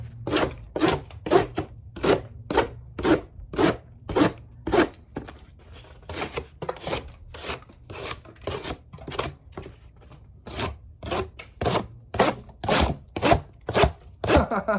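A Bark River Pukko knife slices through cardboard in a fast, regular series of sharp rasping strokes, close and loud, repeating steadily for the whole stretch with no talking.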